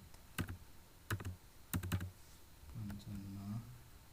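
Computer keyboard typing while entering data into a Microsoft Access table: short bursts of crisp clicks in a few separate clusters, close and fairly quiet, followed by a low hum.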